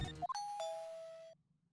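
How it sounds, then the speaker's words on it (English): A two-tone doorbell chime from the video game Phoenix Wright: Trials and Tribulations, a bright ding followed by a sustained lower dong that rings out and then stops, alone and clean. "Ding dong."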